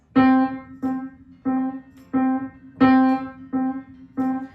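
A single C note is played seven times in a steady, even rhythm, with some strikes noticeably louder and more emphatic than the others.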